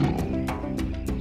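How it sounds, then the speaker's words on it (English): Members of a lion pride give deep rumbling roars and throaty grunts, close and loud, several rising bursts repeating over a low continuous growl. "Here are some members of a pride of lions."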